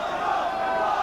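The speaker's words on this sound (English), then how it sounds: "plenty of cheers from the Saints crowd there" Saints crowd at a St Helens versus Widnes rugby league match, 1989, a dense sustained roar of many voices in a stadium, loud and continuous over the short span.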